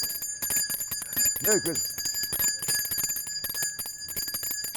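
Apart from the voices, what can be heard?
handbell ringing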